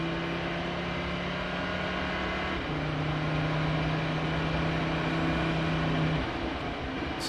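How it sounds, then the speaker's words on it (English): Audi prototype race car at the 2011 Sebring 12 Hours, engine droning steadily with a sustained tonal hum that shifts pitch partway through, loud and continuous with no talk. "Let's have a listen to the Audi just to make sure that it's nothing too sinister"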